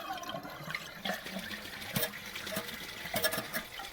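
The toilet of a 1957 Peerless Forward Trap trailer flushes with a soft, steady rush and trickle of water, faint and continuous with small gurgles and clicks throughout.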